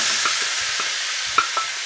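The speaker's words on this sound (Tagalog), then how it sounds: "dyan ko na rin siya iluluto sa ating pinagprituhan kanina ng hotdog" Pork adobo sizzles and fries in oil left from frying hotdogs, a steady close hiss of hot oil broken by a few soft stirring scrapes and clinks, with no talking.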